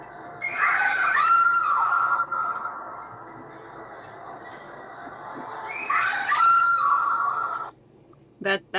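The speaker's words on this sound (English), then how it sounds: "But it does have screaming in it because of the pop-up ghosts" Screams from pop-up ghosts on the 1976 Haunted Mansion ride audio track: two loud, shrill wailing bursts separated by a long sustained tone, ending with a few sharp knocks.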